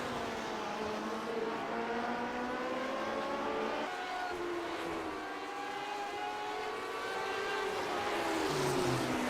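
A Lotus 79 race car on Watkins Glen in the iRacing game, heard onboard as a loud, sustained engine whine rising and falling through gear changes, with another car audible nearby and no talking.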